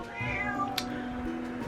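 A house cat lets out a single drawn-out meow, close by in a quiet room, with a faint click partway through.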